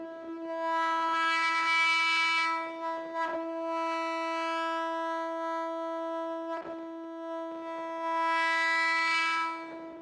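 A violin sample from the Remote Violin Kontakt instrument sustains a single soft E note with a rich, steady harmonic tone for about ten seconds, swelling slightly near the start and the end, with no voice.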